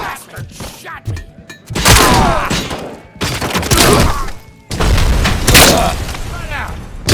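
Gunfire in Robocop: Rogue City erupts in several loud bursts of booming shots and impacts, separated by brief pauses, with a voice shouting between volleys.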